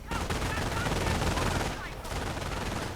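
Sustained automatic gunfire from machine guns in a WWII real-time strategy game battle, dense and continuous for the whole stretch with a brief dip partway through, mixed with other battle noise.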